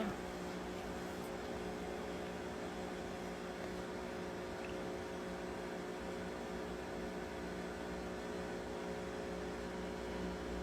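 A microwave oven runs while melting butter, giving a steady, faint mechanical hum with a soft fan-like whir that stays constant for the whole stretch, without talking.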